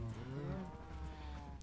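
A cow moos in Minecraft, one drawn-out low lowing call that slides downward, close and fairly quiet, with no talk over it.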